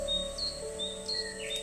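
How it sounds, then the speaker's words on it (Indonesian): Several birds call back and forth with quick, high chirps and short whistled phrases. The sound is soft and slightly distant over a quiet, steady background, with no voices. "kicauan burung"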